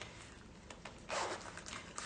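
A zipper runs along a Celine denim canvas garment in a series of short rasping pulls, with one longer louder stretch in the middle, close and unaccompanied by talking.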